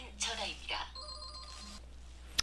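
A telephone rings with an incoming spam call, producing bright electronic ring tones in short bursts while someone talks over it, ending with a sharp chime.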